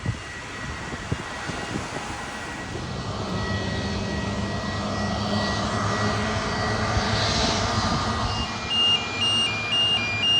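An easyJet airplane on the runway at Gibraltar airport produces a loud, sustained jet engine roar that swells steadily, heard close and alone with a few faint electronic beeps near the end.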